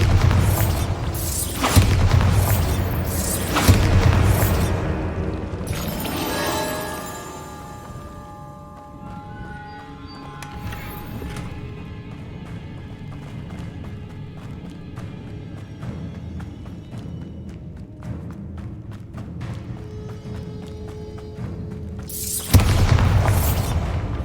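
Repeated Bombarda spell explosions from Hogwarts Legacy boom out in loud bursts, a cluster at the start and another near the end, with quieter game ambience and music between them.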